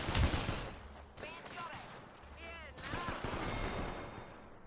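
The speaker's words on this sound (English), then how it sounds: "I am taking fire" Gunfire in Apex Legends: repeated shots crack close and moderately loud among game effects, with a voice talking over the action.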